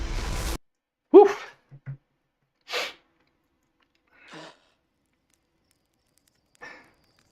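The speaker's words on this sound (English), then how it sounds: "That gasp really does encapsulate that experience" A sharp gasping intake of breath, followed by a few softer, scattered breaths and exhales spread out across an otherwise quiet stretch, all from a single close voice and with no words spoken.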